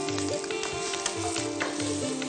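Curry leaves and green chillies hit hot oil over fried potato, beans, carrot, cauliflower and peas, a close, continuous sizzle with crackles and a low repeating hum underneath.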